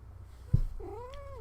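A cat named Freya gives a single rising-and-falling meow, close and clear, after a brief thump, over quiet room noise.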